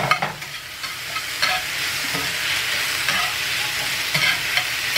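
Vegetables are stirred into a vegan egg mixture in a hot pan, giving a loud, steady sizzle with scraping and stirring noises up close.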